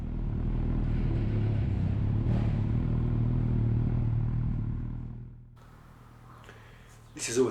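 A Kawasaki ZZR 1400 motorcycle idles and rumbles loudly at Snetterton track, fading to a quieter idle before a sudden rev near the end, with a rider talking over it.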